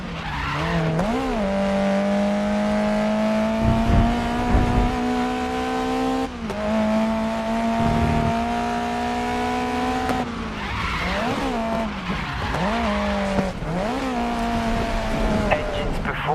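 Race car engines roar steadily in the racing video game Grid Legends, shifting pitch through gear changes with repeated tire squeals through corners, loud and continuous, with a voice speaking over the action.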